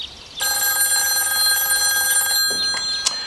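A telephone rings with a bright electronic trill for a call, sounding steadily close by for a few seconds and then cutting off, with a couple of faint clicks afterward.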